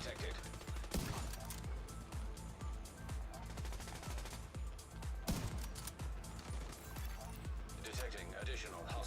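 Turret loaded with special ammo firing in The Division 2, a sustained run of rapid automatic bursts with heavy low thumps, close and loud throughout, with voices talking over it.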